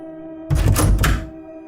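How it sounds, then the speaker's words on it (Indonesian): A single dull door thunk with a short creaky rattle, like a hinge swinging and a lock releasing, sounds up close for under a second against a quiet background hum. "tiba-tiba suara engsel pintu berbunyi"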